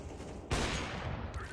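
Rapid gunfire bursts out in a CS:GO match, one player spraying shots in a sudden loud fusillade after a quiet moment.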